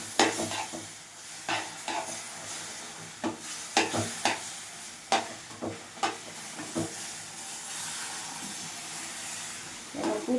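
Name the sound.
stirring hot milk into roasted semolina for kesari bath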